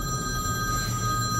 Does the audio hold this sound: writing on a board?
no